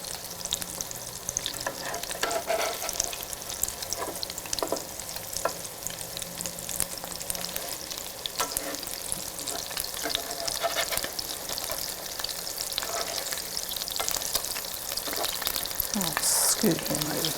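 Shrimp cakes fry in an electric skillet with a continuous hissing sizzle and crackle, close and steady throughout, with faint occasional scraping of a utensil and soft background sounds.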